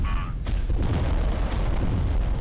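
Titan weapons firing in the tabletop wargame adaptation Adeptus Titanicus: Dominus, a dense run of overlapping booms and bursts rolling one into the next at steady loudness for a couple of seconds, under a low rumbling bed.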